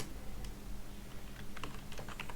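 Rapid typing on a computer keyboard, a steady patter of key clicks that grows busier and denser toward the end, close and fairly quiet over a low hum, with no voices.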